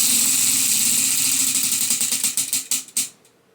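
A prize wheel spins with a fast stream of ticks that gradually spread out and slow to a few last clicks before stopping.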